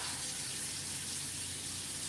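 Water runs steadily from a sink tap during rinsing, a constant hiss that stays even and unbroken throughout.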